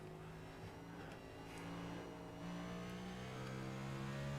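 A NASCAR Next Gen race car engine in iRacing, a steady droning hum that slowly climbs in pitch as revs build, faint and continuous without any speech.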